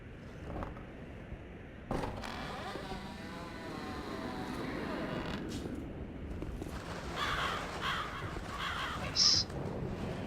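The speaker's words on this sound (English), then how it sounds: "to have the crows fly away when they detect the player" Crows in Dark Souls 3 caw and flap off as the player approaches, giving a few harsh calls and a burst of wingbeats over a steady ambient game background.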